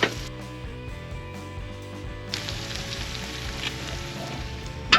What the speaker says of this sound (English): Bit of salami, quick fry.